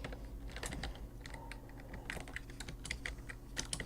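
Someone types on a computer keyboard at a fast, uneven pace, with crisp close-up clicks and the occasional heavier key press in a quiet room.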